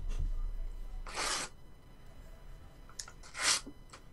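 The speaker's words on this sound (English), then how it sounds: "Someone ripping up paper." Paper is ripped up in two quick, bright tearing bursts about two seconds apart, close and fairly loud, the second rasp longer and fuller, with faint room noise between.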